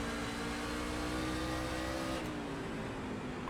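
A NASCAR Truck Series engine in the iRacing sim accelerates out of a corner at USA Speedway, a steady buzzing drone that shifts and eases near the end, loud and close.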